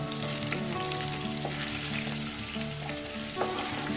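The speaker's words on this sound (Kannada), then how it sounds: "ಇದೆಲ್ಲ 1 ನಿಮಿಷ ನಾನೀಗ ಫ್ರೈ ಮಾಡಿದ್ದೀನಿ." Green chillies, curry leaves, crushed garlic and ginger frying in a pan of hot oil, a steady, loud, dense sizzle with faint stirring clinks, no voices.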